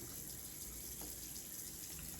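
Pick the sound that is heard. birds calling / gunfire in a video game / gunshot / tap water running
tap water running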